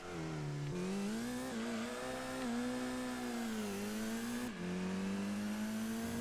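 A car engine in Gran Turismo 2 drones steadily while the car slides sideways through a corner, its pitch sagging and climbing, with a few gear-change dips and no talking.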